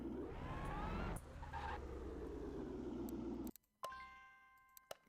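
A car engine in the video game Car Mechanic Simulator pulls away in second gear, a loud, steady rumble for about three and a half seconds before cutting off abruptly, followed by a few bright chime tones ringing out alone.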